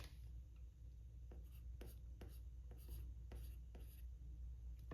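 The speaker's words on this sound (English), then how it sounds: "We're going to write" A pen scratches across paper in short, close strokes with brief pauses, steady and quiet, over a faint low background hum.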